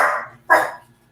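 A French bulldog called Rocky lets out two short barks, the first fading out and the second sharper and louder, close by with nothing else heard.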